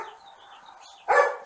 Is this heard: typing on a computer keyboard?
no